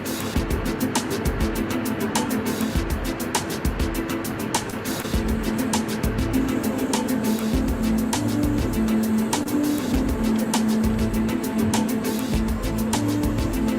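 Inside a car travelling over a rough, patched-up road: a loud, steady road roar with rumble underneath, broken by frequent thumps and jolts from the uneven surface, with no talking.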